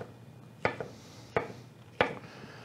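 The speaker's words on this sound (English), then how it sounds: "I've just kind of rough chopped these into probably about 1/8 cubes" A knife rough-chops pineapple and jalapeño on a cutting board: three sharp, separate thunks spaced well apart, each with a slight board knock, close and clear against a quiet room.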